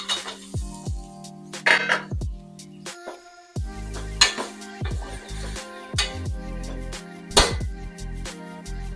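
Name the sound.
taro root pieces added to a cooking pot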